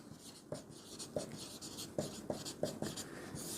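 Pen strokes of a math solution being written on paper, scratching in short irregular bursts with brief pauses, close and fairly quiet, with no talking.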